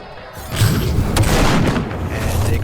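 A heavy booming impact from the Blitz guard break move in the Roblox-style game Jujutsu Infinite, struck against a blocking opponent: a loud, dense thud that swells after a brief lead-in and rumbles on for a couple of seconds.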